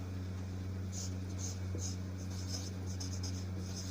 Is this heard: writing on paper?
yes